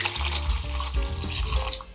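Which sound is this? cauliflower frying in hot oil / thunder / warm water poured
warm water poured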